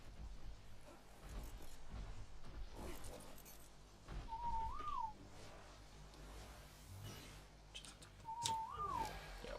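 Two short rising-falling whistle calls, used as a command to dinos in ARK: Survival Ascended, sound a few seconds apart over quiet game ambience and rumble.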